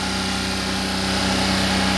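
The engine of a Maruti Alto 800 with a P0607 fault code runs steadily above 3000 rpm, giving a loud, close, continuous buzzing drone with no voices.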